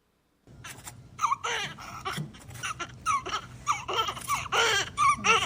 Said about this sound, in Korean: 제가 우리 아기의 울음소리를 한번 들려드릴 테니까